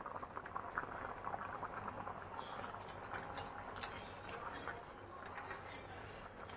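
Fish curry (kalvan) simmering in a pot, a steady close bubbling and gurgling wash that continues without a break.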